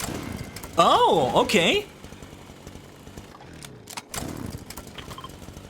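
A ripsaw launcher chainsaw weapon in Fortnite revs in a loud, rising and falling buzzing burst for about a second, then returns more briefly later, with a person talking over gameplay.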